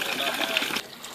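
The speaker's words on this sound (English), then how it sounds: "Water right out of the ground." Spring water gushes steadily out of the ground at a backcountry campsite in the Pemigewasset Wilderness of the White Mountains, a close, continuous rushing splash that drops away near the end.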